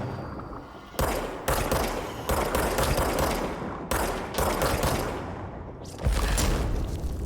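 Bursts of gunfire from the video game Control, loud broadband volleys repeating rapidly across the stretch with short gaps, each new burst starting sharply, no talking.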